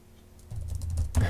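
Close typing on a computer keyboard during modded Minecraft play, a quick burst of key clicks after a brief quiet start, ending in a louder thump.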